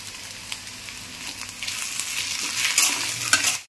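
Cashew nuts sizzle and crackle as they fry in a pan, with a spoon stirring and scraping through them; the sizzle swells louder toward the end with sharp scrapes, and no one speaks.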